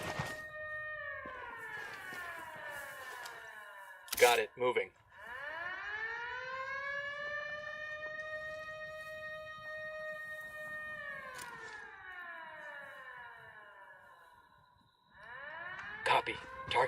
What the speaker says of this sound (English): Christ, the alarm.